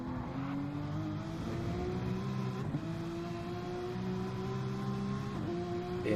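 A BMW race car screams along the Nordschleife during the Nürburgring 24 Hours, its engine holding a steady high drone with brief shifts in pitch, loud and continuous.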